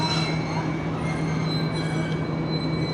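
The Awam Express passenger train rolls steadily along the tracks between Hyderabad and Rohri, a loud continuous rumble of wheels and carriages with a faint metallic squeal running through it.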